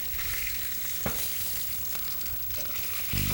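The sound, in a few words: fish browning and sizzling in oil in a pan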